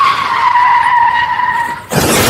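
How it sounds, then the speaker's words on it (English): A car skidding with a long, loud tire screech that cuts off into a burst of broadband crash noise near the end, a short sound effect with no talk. "eventually we all have this happen to us, the old car wreck"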